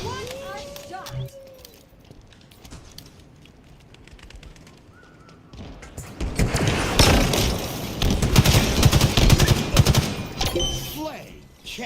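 Bursts of gunfire in Halo Infinite, scattered shots early, then dense rapid automatic fire swelling loudly in the second half, mixed with game announcer voices.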